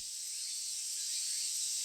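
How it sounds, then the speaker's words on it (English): Cicadas in a hot summer scene from the Tsukihime visual novel, a dense, steady high-pitched shrill buzzing that fills the background without a break and swells slightly toward the end. "Hi, cicadas."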